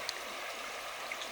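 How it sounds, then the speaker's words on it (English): The Chena River near Chena Hot Springs, Alaska, flows past in a steady, even rush of water, a constant hiss of moving current with a few faint splashes and no voices. "I believe that is the Chena River, one of the forks."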